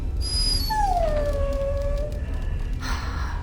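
A dog in the fantasy game Dragon Age Origins lets out a single long, drawn-out whine that slowly falls in pitch, over a constant low background rumble.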